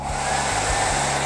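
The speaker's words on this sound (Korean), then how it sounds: "드라이기로 이렇게 말려주시면" A hair dryer blows steadily at close range to dry paint on a Scandia moss cart craft, a continuous even whoosh with a faint low hum and no talk.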